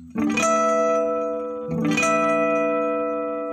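Two chiming natural guitar harmonics at the twelfth fret ring out about a second and a half apart, each bell-like tone sustaining and slowly fading.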